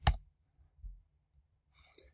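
A computer mouse clicks a few times while Fusion design software is in use, sharp isolated clicks heard close against near silence.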